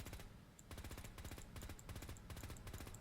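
Rapid bursts from the Gatling Laser in Fallout 4: Project Mojave, with no barrel spin-up: dense rattling volleys of shots in quick succession, separated by short pauses, loud and close.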